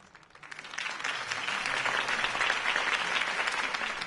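Crowd applause in a video game swells up quickly from quiet and holds steady, many hands clapping at a moderate distance.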